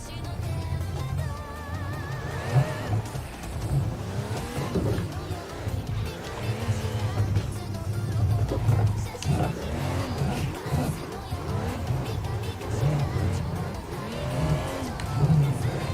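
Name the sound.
car drifting engine revving and tire squeal, Assetto Corsa video game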